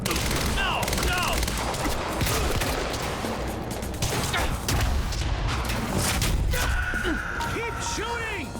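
Sustained video-game gunfire from Quantum Break, with dense overlapping shots and bursts of automatic fire running continuously under a loud, busy battle mix, punctuated by thuds and impacts.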